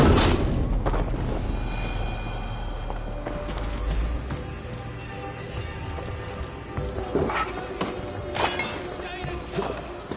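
A huge, poorly anchored chain is shot and breaks apart in Assassin's Creed: several sharp booming cracks and shattering crashes over a steady bed of game ambience and score.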